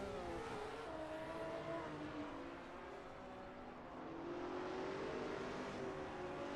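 Castrol-liveried De Tomaso race car in a sim racing game accelerating hard out of a chicane at Imola, a steady rising engine drone with wheelspin, held at moderate, even loudness throughout.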